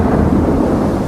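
Thunderstorm sound effect for a great storm at sea in the Strait of Malacca: a loud, close, continuous rolling thunder rumble with rain behind it, no voices.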